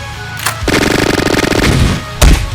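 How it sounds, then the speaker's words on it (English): Submachine gun fire in a video game, a loud rapid automatic burst of evenly spaced shots lasting over a second, with a couple of sharp single blasts before and after. "Freaky Man uses submachine gun."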